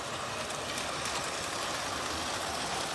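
A Lionel postwar model train runs on DC power along straight track, a steady low rumble and rolling clatter that continues evenly throughout with no talking.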